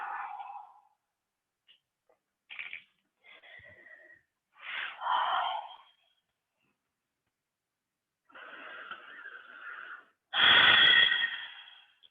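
Slow, audible breathing during a yoga child's pose in a gentle morning class, several separate inhales and exhales with pauses between, a louder exhale near the end, close and quiet with no talk.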